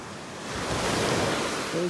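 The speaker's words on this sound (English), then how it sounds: "these waves are neat" Ocean surf rolls in on a beach in North Naples, Florida, a broad roar swelling as a wave breaks close by, with some wind noise.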